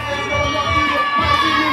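Wrestling crowd at a Slammasters Wrestling show cheering and shouting loudly for wrestler MLD's entrance, a dense, sustained roar of many voices filling the hall.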